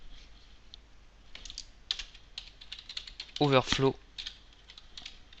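Rapid, light keystrokes tap out code on a computer keyboard in short irregular bursts nearby, while a voice speaks briefly in the middle.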